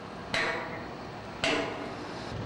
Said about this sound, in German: Ein erfahrener Arbeiter hört bereits am Klang, ob der Bolzen gut rangeht